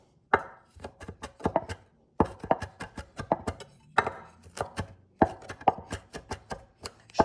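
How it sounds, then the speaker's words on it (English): A knife cuts rolled basil into chiffonade ribbons on a cutting board, making quick rhythmic close chops in three or four fast runs separated by short pauses, with no voices. "A little chiffonade on the basil."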